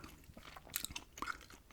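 Quiet, close gum chewing with soft wet smacks and small clicks in an irregular rhythm, heard intimately with no talking.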